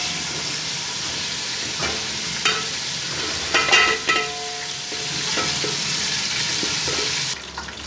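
Black-eyed beans (lobia) frying in hot ghee in a pan, with a steady close sizzle and a few brief clatters and stirring knocks partway through.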